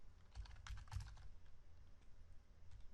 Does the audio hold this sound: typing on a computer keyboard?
yes